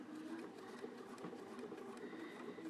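A sewing machine runs steadily, stitching a quarter-inch seam on quilt binding and riding up over bumps in the fabric, its quiet motor hum and rapid needle chatter close by and continuous.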